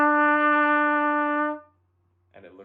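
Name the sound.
trumpet playing note E with first and second valves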